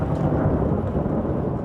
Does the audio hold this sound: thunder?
yes